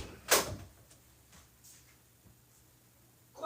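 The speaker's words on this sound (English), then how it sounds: "Close the door." A door closes with one sharp, near bang, followed by a quiet room and a faint knock or rustle near the end.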